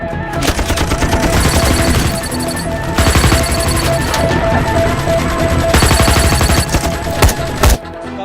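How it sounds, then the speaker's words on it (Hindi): Bollywood action movie gunfire, dense rapid bursts of automatic shots and loud blasts layered over a driving score, continuous and loud with short pauses. "हम तो फायरिंग कर रहे हैं सर।"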